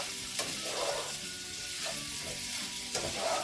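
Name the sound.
onion frying in skillet after cooking beef sausage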